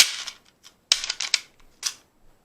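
Rifle rounds are pushed from a metal stripper clip into a magazine, making a quick series of sharp metallic clicks and snaps in close, dry bursts with short gaps between them.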